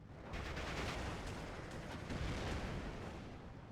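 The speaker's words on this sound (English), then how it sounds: "ME410 coming in for the bombing strike." Me 410 bombing strike in the Steel Division II wargame, a dense rumbling series of overlapping explosions and blasts rolling on for several seconds, distant and fairly faint.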